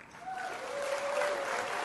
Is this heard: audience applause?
yes